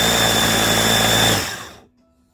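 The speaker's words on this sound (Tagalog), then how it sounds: "At i-blend lang natin ang lahat ng mga sangkap." Food processor blending kimchi ingredients into a puree, a loud steady whirring motor that runs for over a second before spinning down and stopping, leaving a faint hum.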